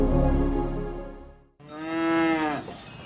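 Cows on a mountainside lowing twice, two long, loud, close moos back to back with a brief gap between them and no other sounds.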